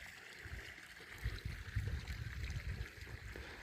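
Irrigation water flows gently into two planting beds of newly set akarkara seedlings, a faint, steady trickle and gurgle heard alone, with soft low sloshing pulses.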